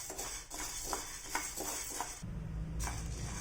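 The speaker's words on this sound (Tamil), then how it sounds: "ஸோ இந்த கருப்புளுந்தை வந்து நம்ம ஒரு 5லேருந்து 10 நிமிஷம் நல்லா வந்து மிதமான தீயில வச்சு நல்லா வறுத்து எடுத்துகிட்டு போகிறோம்" Black urad dal dry roasting in a pan over a medium flame, with repeated scraping and stirring strokes and a light crackle, close and steady with no voices.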